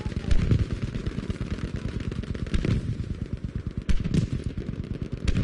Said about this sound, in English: I'm pretty sure it is again someone shooting something that was shiny